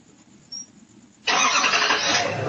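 A stolen truck's engine cranks and catches, jumping from near silence to a loud, steady running roar that holds until the end.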